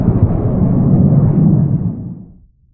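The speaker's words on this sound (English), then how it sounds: "The force of the milk explosion has altered the microplanet's orbit." A big, rumbling blast of a milk explosion from the animated series Star Trek: Lower Decks rolls out loud and low, holding steady for a couple of seconds before fading away.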